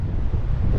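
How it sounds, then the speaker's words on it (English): A big gust of wind buffets the microphone on an exposed rocky trail in Denali National Park, a loud, steady low roar with no voices. "It's a big gust of wind."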